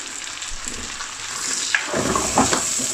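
Fresh green chilies fry with onions and peppers in a pan for lamb korahi, a steady loud sizzle with brief stirring scrapes and crackles near the end, heard close and without talking.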